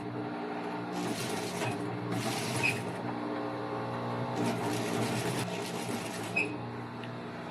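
A sewing machine stitches a waistband onto faux leather for a jacket, running in steady bursts with a constant mechanical hum and rapid needle chatter, close and alone.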